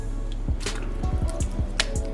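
Chunks of pot roast beef dropped back into beef stock in a Dutch oven, a series of wet squishy plops and splashes in quick succession, close up, with no talking.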